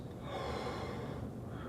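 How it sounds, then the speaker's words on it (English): A slow, relaxed breath drawn in like the start of a yawn, soft and airy, close and quiet, with a steady hiss lasting under two seconds and no talking. "we take a relaxed breath"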